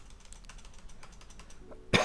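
A single sharp cough bursts out at the very end, close and loud, after a stretch of soft rapid tapping that sounds like keyboard typing.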